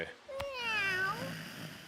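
A cat meows once in a video game, a clear rising-then-falling call that stands alone over a faint background hum.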